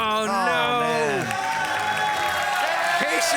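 Virtual crowd at a Clash of Clans Builder Base tournament breaks into a loud burst of cheering and whooping, with rising excited shouts close up that fade into clapping and a murmur.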